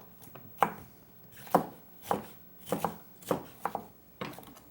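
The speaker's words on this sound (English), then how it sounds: "So we're just cutting these up into small pieces" Close, firm knife chops on a cutting board as fruit is diced for a Mexican fruit salad, about seven or eight evenly spaced strokes with no voice.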